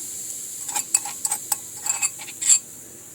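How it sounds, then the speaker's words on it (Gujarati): Whole spices dropped into hot oil for a Gujarati village-style tempering, giving a run of sharp crackling pops and short sizzles over about three seconds, close and fairly loud, with no talking. "તો તેલ આપણે ગરમ થઈ ગયું છે. તો તેમાં આપણે વઘાણી ઉમેરી દઈશું."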